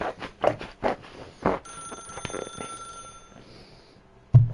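A mint green telephone in The Stanley Parable rings in short bursts of bright trilling bells, followed by a steady electronic tone and a sudden closing thump.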